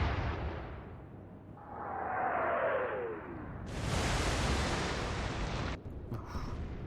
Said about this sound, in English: I'm going to fire again.